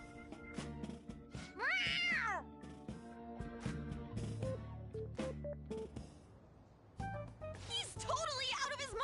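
Cat meowing in the Persona 5 Royal video game, a few rising and falling meows over game music and character dialogue.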